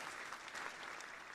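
Faint, brief applause from a small group, a soft continuous patter of clapping with no voices.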